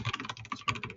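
Rapid typing on a computer keyboard, a quick run of close, crisp key clicks in an uneven rhythm, with no voice over it.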